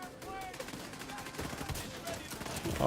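Gunfire from the video game The Division 2 rattles in rapid, dense bursts. The shooting is fairly quiet and runs without a break under a busy game-sound bed.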